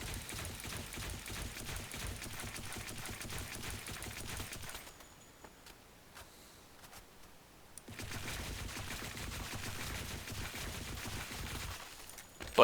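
Rapid automatic rifle fire crackles in Counter-Strike: Global Offensive, two long sustained bursts with a brief pause between them, loud and close, no talk over it.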